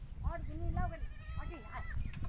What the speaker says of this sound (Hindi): ये बकरी ने और बच्चा दे दिया